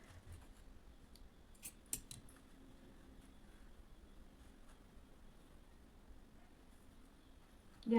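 Scissors snipping through blouse fabric during collar and katori-cut blouse tailoring, a few faint, brief cuts at the start over a quiet room, then near-silence.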